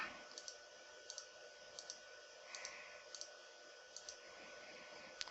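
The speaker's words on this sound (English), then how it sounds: "right click, go to properties, and then I will turn all of these off here." Light computer mouse clicks, about eight quick single and double clicks at a steady pace, faint against a constant electronic hum while settings are switched off on a Windows Server 2019 machine.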